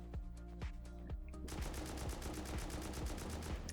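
Rapid automatic gunfire in the survival game Rust, sharp repeated shots fired against a starter base with a tool cupboard and box behind it, steady bursts that grow denser and louder partway through.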